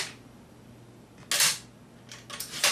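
The plastic charging handle on an A&K M60E4 MK43 airsoft machine gun is pulled back, giving a sharp mechanical clack followed by a couple of quicker rattling clicks, loud and close with no speech.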